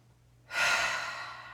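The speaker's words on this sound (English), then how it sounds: "Exhale out your mouth" A long breath pushed out through the mouth during a gentle yoga session, rising suddenly and trailing off slowly as a single soft, airy exhale close up.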